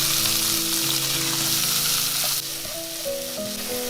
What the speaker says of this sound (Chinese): 重新起锅热油，油稍微多一点，加入蒜蓉炒香，再把梅菜干放进来